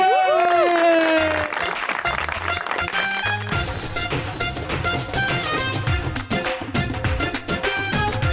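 Audience applause and cheering greet a singer on a televised stage show, the loud clapping blending with an entrance music track that plays throughout and carries on strongly underneath.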